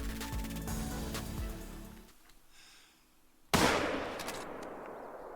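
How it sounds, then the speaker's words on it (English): A hunting rifle shot at a deer in the Call of the Wild video game, a single loud sharp blast that rings out after a quiet stretch and trails off in a long echoing decay. "Come on, that was a perfect shot."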